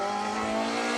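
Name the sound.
MG rally car passing on asphalt stage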